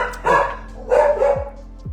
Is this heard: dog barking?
yes